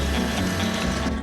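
Robot lawn mower starting up and driving off, giving a steady mechanical whirring and clicking hum that stays close and even throughout, with no voices.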